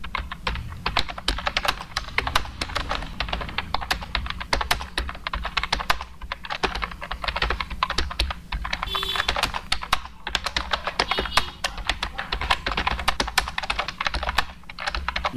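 Steady, rapid clatter of keys on a computer keyboard while text is typed into a Microsoft Word document, close and continuous with brief pauses, no voices present.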